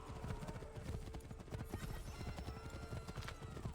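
Horse hooves clip-clopping in Assassin's Creed III during a chaotic colonial town scene, a quick steady gallop rhythm close by, with a whinny and faint background commotion.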